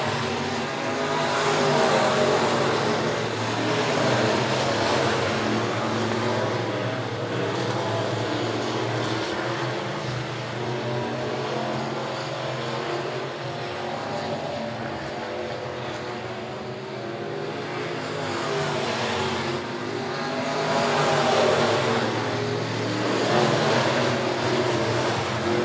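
Race cars lapping Monett Motor Speedway, a continuous loud roar of engines circling the track that swells and fades as the pack passes, with no talk.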